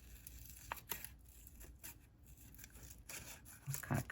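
Scissors cutting paper for a Hobonichi planner, soft intermittent snips and paper rustling up close, faint and sporadic with a sharper crinkle near the end.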